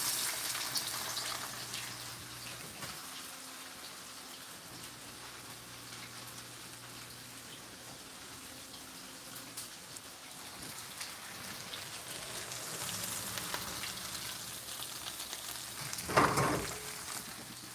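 White onion sizzles steadily in a hot pan as the start of a vegan fried rice, a continuous soft crackling hiss with no talk, swelling briefly louder near the end.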